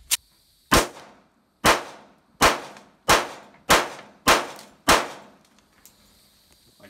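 Seven sharp gunshots from a 1911 .45 caliber pistol fired one-handed, spaced roughly evenly about a second apart, each loud and close with a short ringing decay, the last shot followed by quiet.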